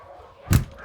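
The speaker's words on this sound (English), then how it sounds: "There's a bunch of dogs in here." A single short dog bark, fairly close and loud, standing out briefly against quiet background noise in a room holding several dogs.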